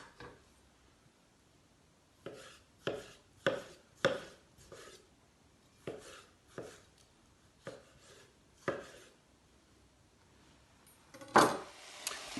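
Knife chopping tomatoes for an aubergine curry: about a dozen crisp, evenly spaced chops on a board, fairly close, with a louder burst of clatter near the end and no talking.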